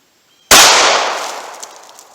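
A single .45 ACP 230-grain ball round fired into a big book: one very loud, close, sharp crack after silence, followed by a long ringing, decaying tail.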